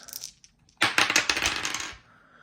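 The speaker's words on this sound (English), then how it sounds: "I'm gonna do the dice roll right now so I don't forget." Dice tumble and rattle across a hard surface in one burst of dense clattering clicks lasting over a second, close and fairly loud, with no talk.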